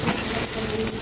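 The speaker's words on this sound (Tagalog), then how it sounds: "They're mixing it with the sticky rice and suman latik." Sticky rice being stirred with latik in a pot while cooking suman latik, a steady close sizzling and scraping texture with soft stirring movements throughout, no talking.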